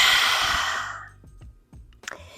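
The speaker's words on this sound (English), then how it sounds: "We're going to take one deep inhalation in through our nostrils and one exhale out of our mouths." A single deep exhale out of the mouth during a Pilates breathing exercise, a loud, close breathy rush that fades over about a second, followed by a few soft breath sounds.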